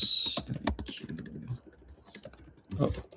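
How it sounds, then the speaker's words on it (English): Computer keyboard clicking and clacking at a trading desk, a close run of quick irregular key taps in bursts with short gaps, loud and clear, with faint speech in spots. "try to silence the clicking and clacking, you know?"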